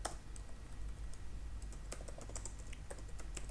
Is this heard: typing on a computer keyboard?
yes